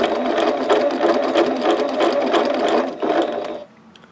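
A sewing machine stitches a paper-pieced quilt block in a fast, steady mechanical whir of rapid needle strokes. It runs close and loud for about three and a half seconds, then stops.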